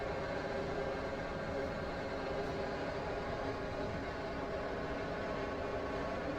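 A train running in the Roblox game Stepford County Railways, a steady, even rumble of wheels and motor that holds at the same level throughout with no distinct clacks or horn.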